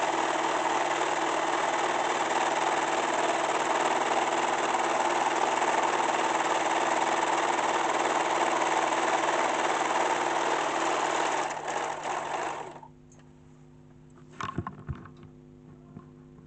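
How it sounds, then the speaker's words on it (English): A sewing machine runs steadily while stitching a pocket onto an African print kaftan, a continuous close whir that stops near the end and gives way to faint handling sounds. "So I'm gonna stitch this pocket all the way around here."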